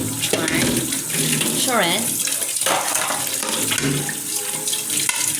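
Tap water runs steadily and loudly into a kitchen sink during dishwashing, a continuous splashing rush with clattering and a brief spoken word over it.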